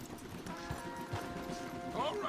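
Horses' hooves clip-clopping along a wooded trail in the Red Dead Redemption 2 video game, a few uneven hoof knocks at moderate distance under faint background tones, with brief voices mixed in.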